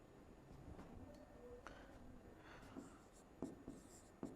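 A teacher writes a line on a board during a biology class, soft scratchy strokes and a few sharp taps of the marker or chalk, faint and close in a quiet room.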